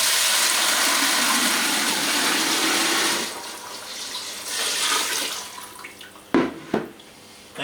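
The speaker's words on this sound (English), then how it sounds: "So what you do is you lift up both containers like this and you just pour." Liquid poured from two raised containers through a filter while making turbo-yeast alcohol runs as a steady, close, loud splashing stream for about three seconds, then thins into lighter trickling with a couple of sharp knocks near the end.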